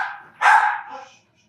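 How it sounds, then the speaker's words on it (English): A dog barks once, loud and close, a single sharp bark with a brief trailing tail, then quiet. "Oh, my dog is going nuts."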